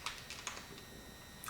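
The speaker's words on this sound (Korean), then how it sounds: "타이핑하고 있어요." Typing on a computer keyboard, a few quick, light, close key clicks spread irregularly over a quiet background.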